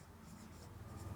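Pen or chalk scratching faintly during a mathematics lecture, a short run of soft continuous strokes with a low background hum and no clear speech.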